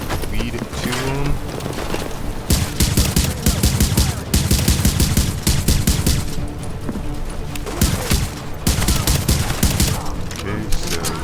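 Rapid bursts of automatic gunfire from a firefight in the video game The Division, loud and sustained across the clip with dense repeated volleys and a brief lull, and a voice speaking faintly underneath.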